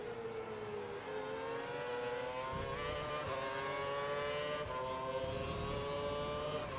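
A Formula One car at the Canadian Grand Prix in the video game F1 2012 holds a loud, high engine whine, rising and falling in pitch through shifts as it accelerates, steady throughout with no talk.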